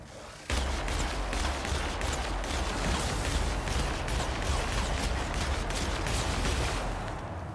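Sustained rapid gunfire from a sci-fi shooter game in The Outer Worlds, a dense continuous fusillade of loud shots starting abruptly after a brief quiet moment and rolling on without pause.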